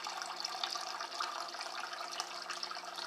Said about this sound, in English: I'm going to fill this up with some water here